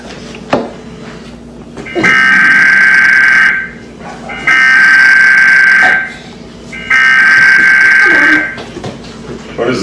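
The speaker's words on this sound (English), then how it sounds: "Emergency action notification." An emergency alert broadcast tone sounds loud and harsh, repeating in three long blasts with short gaps between them. It is preceded by a brief thump.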